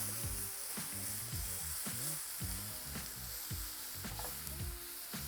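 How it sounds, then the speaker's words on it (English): Sliced tempeh sizzles steadily in a hot pan with a little oil, a constant close frying hiss over light clatter from stirring, with no talk. "I've sliced it nice and finely because I do want to sear it."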